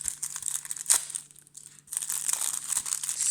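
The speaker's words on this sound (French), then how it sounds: "Donc on commence tout de suite par ouvrir ce petit paquet." A Yu-Gi-Oh card booster pack is torn open and crinkled at close range, with bursts of crisp foil crackle, a short pause, then more rustling and tearing.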